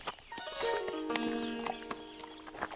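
A horse walking across a bridge, its hooves clip-clopping in a steady rhythm, mixed with a bright ringing tonal sound and a brief whinny-like note, at moderate volume with no talk.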